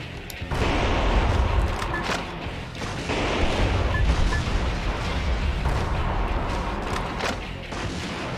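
Heavy explosions and rapid gunfire from the mech action game Metal Wolf Chaos XD roar loud and dense, a sustained barrage with repeated booms across the whole stretch.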